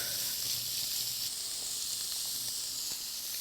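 Pork tenderloin frying in olive oil in a pan, a steady bright sizzle and hiss holding evenly throughout, close and fairly loud with no talking.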